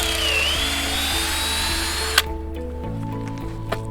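A power drill boring a tap hole into a maple tree, a steady close whine with pitch shifting slightly as the bit cuts, then the motor stops and a quieter hum remains.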